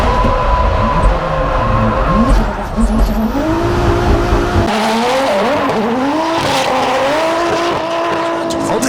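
A drift car slides through the course at the French drift championship, engine revs rising and falling over squealing tyres, loud and close throughout, with an abrupt shift in tone partway as the car transitions.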